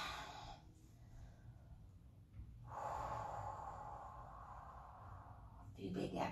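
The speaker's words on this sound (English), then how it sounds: "A few big exhales there." A few heavy breathy exhales during a yoga session, soft and close, with broadband hiss rising and falling between quieter pauses and a final louder breath near the end.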